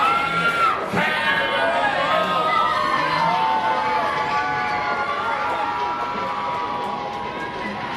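A wrestling crowd at the House of Hardcore cheers and shouts in a loud, continuous wash of voices with whoops rising and falling throughout, the roar easing slightly near the end.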